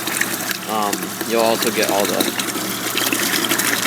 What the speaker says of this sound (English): when you turn the garden hose on, the coolant's going to come out like this